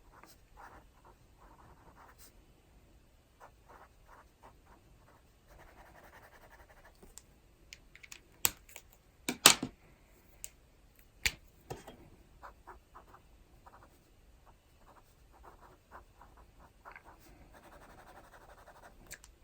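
Arteza Inkonic pens scratching across paper in short strokes and scribbles, faint and close, with a handful of sharper taps and clicks scattered through and no talking.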